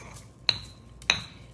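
Mint being muddled with a mortar and pestle for a Kentucky Derby mint julep, three sharp hard clinks roughly half a second apart, close and crisp over a faint low hum.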